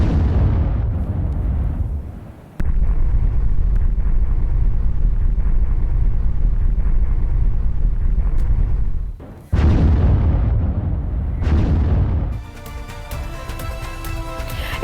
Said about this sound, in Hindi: आप धमाके की आवाज सुनिए, कितनी तेज ये आवाज है